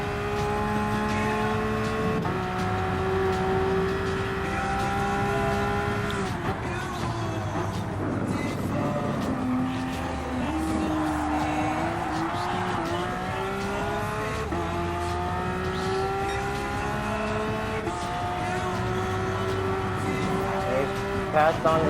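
Porsche 911 Cup race cars in Gran Turismo Sport on the Dragon Trail Seaside circuit, engines droning and shifting pitch steadily through the clip with tire noise, loud and continuous under occasional talk.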